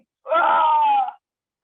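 A voice imitates a child's loud scream as the child hits a stone, a single sustained wailing cry lasting about a second, loud and close, with silence before and after.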